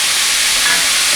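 Deer meat for chili sizzles loudly in a hot pan, a dense, steady frying hiss with faint stirring and no voices.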